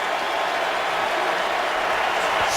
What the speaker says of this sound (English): Crowd gets loud as it's 3rd and 9 for the Saints.